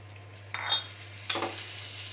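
Chopped onion with turmeric and chili powder frying in a little oil in a pan, a soft steady sizzle broken by two brief bursts of louder hissing as ingredients go in or get stirred, over a low hum.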